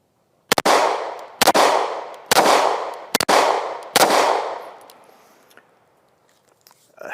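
An AF-1 Strike One 9mm pistol, made in Italy, fired outdoors: five loud sharp shots about a second apart, each followed by a long rolling echo, then the last echo fades into quiet.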